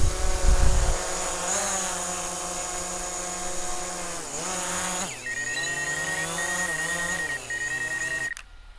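The motors of a DJI Mavic drone whine and rev while it lands in a palm, a loud close buzz that dips and rises in pitch several times before cutting off abruptly at the end.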